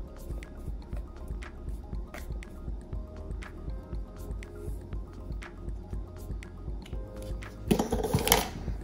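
Carrot bonda batter with coconut, cardamom powder, salt and baking soda being mixed by hand in a bowl, giving soft wet squishes and slaps in a steady rhythm, close up, ending in a brief louder clatter.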